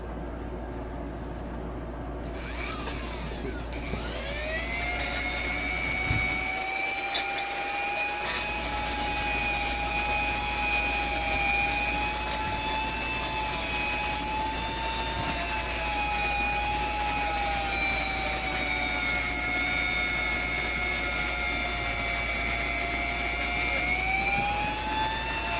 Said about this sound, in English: you can see it's a wire wheel